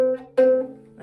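A plucked ukulele C note rings out, then is plucked again shortly after, each tone clear and sustained before fading.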